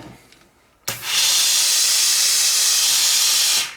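A Polti Vaporella 2H Professional steam cleaner, one with a tripping-breaker fault, releases a single loud, close, continuous hiss of steam that starts abruptly after a quiet moment and cuts off cleanly near the end.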